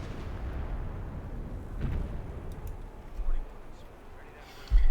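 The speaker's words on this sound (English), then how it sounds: "Wow, he actually moved through that barrage." Artillery barrage in Company of Heroes 2, distant booming shell impacts rumbling under a steady battle din, ending with one closer, louder blast; a voice talks over it.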